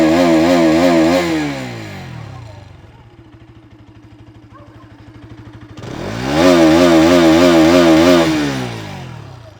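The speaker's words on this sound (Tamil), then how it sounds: "இப்போ வந்து பார்த்திங்கன்னா ஹை ரெவ் கொடுக்கலாம்" A Bajaj NS 200 BS6 motorcycle is revved hard twice, its exhaust roaring up loud and close with a raspy buzz, dropping between the blips to a lumpy, pulsing idle.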